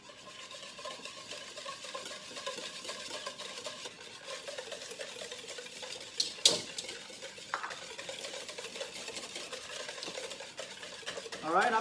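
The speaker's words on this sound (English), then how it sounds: "first step is to beat your egg yolk" Egg yolk beaten with sugar for a pandan chiffon cake, a whisk scraping and clinking steadily around a bowl, close and fairly quiet, with a louder knock of utensil against the rim near the middle and end.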